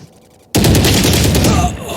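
Dense burst of Valorant pistol fire erupts suddenly after a quiet moment, loud overlapping shots and impacts continuing steadily during a pistol round in a competitive esports match.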